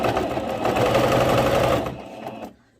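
A sewing machine runs a continuous topstitch seam along a pleated skirt, a fast, even mechanical whir up close that slows and stops near the end.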